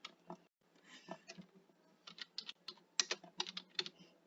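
Close, quiet clicking of keys being typed on a computer keyboard, coming in irregular bursts of taps with short pauses and no speech.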